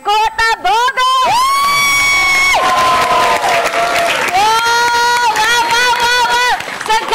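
Students from SMK Infokom Kota Bogor shout and cheer loudly together in a TV studio, a sustained crowd roar with high whooping voices rising and falling, close and continuous throughout.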